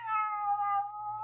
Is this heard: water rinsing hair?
no